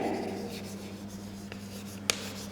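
Pen or pencil writing out a number in words on paper during a maths lesson, a soft continuous scratching stroke with steady low hum beneath and one sharp tap near the end.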